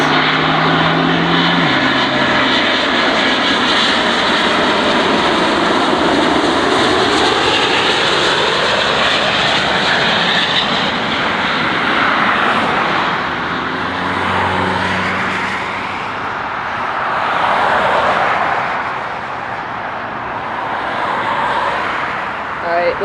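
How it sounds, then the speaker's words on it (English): An Air France Airbus A350-900 jet airliner roars close by during planespotting at Dulles, a loud, continuous engine rumble and whine that swells and shifts in pitch as the aircraft passes. "Here comes the Airbus A350 900."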